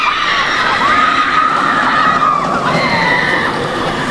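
Screams rise from riders at Knott's Berry Farm amusement park during the Boysenberry Festival, a loud sustained wash of distant crowd shrieking over a constant rushing din.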